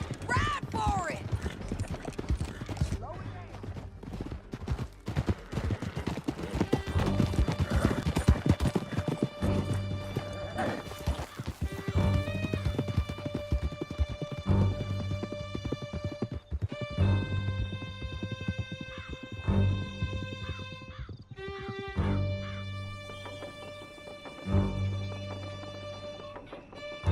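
Several horses galloping hard in Red Dead Redemption 2, a steady rapid clip-clop of hooves with occasional neighs, under music and voices talking throughout.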